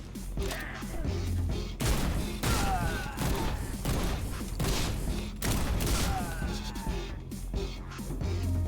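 Rapid gunfire from a Skyrim parody video game, dense bursts of shots and crashing impacts running steadily through the whole stretch with little pause.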